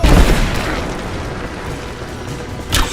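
Combat in the video game Rise of the Tomb Raider: a heavy boom opens the moment, followed by a decaying rumble and a second sharp report near the end, loud and close, with no talking.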